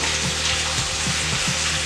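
A stir-fry sizzles steadily in a pan, a dense unbroken hiss with soft low bumps of food shifting about, close and fairly loud, with no voices.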